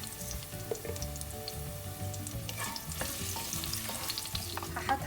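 Chili flakes and finely chopped garlic stirred and fried in a pan, a steady close sizzle with scraping stir strokes and small crackles throughout.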